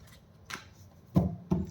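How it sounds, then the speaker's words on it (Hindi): Tarot cards being shuffled by hand in a few short, papery bursts, close by, with the last two louder and sharper than the first. "this is my last shuffle"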